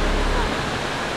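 Water cascading down a Pennsylvania stream, a loud steady broadband rush heard close up and continuous, with no breaks or talking.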